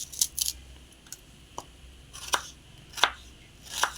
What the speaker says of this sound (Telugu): నేను ఇలా బారుగా కట్ చేస్తున్నానండి ఉల్లిపాయలు